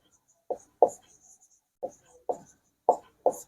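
Chalk or marker writing on a classroom board during a maths lesson, heard as six short scraping strokes spaced unevenly, fairly close and clear, with quiet gaps between them.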